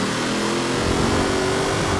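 A car engine revs hard and continuously while drifting in the racing game Forza Horizon 4, with a dense, loud roar of engine and tyre noise and no voices.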